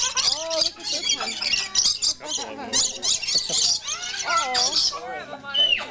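Birds at Point Defiance Zoo squawk and chatter loudly up close, a busy run of raspy calls and chirps repeated throughout, with voices mixed in.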